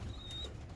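A young pigeon in a breeding loft gives a thin, high, drawn-out cry once, faint against a low steady background hum.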